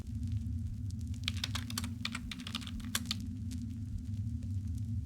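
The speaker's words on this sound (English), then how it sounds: "My fingers flew over the keyboard" Rapid keystrokes on a computer keyboard, a quick clattering run of clicks over a steady low hum, close and fairly quiet, with no voices.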